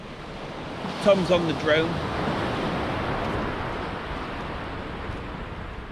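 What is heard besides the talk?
wind blowing on the Holderness sea coast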